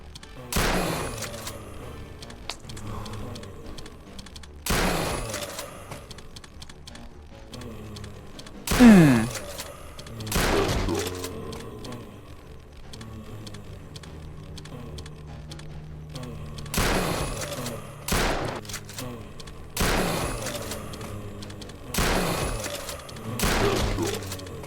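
Repeated gunshots in a zombie video game, sharp loud bursts spaced every few seconds, some doubled in quick pairs, over a steady low game background.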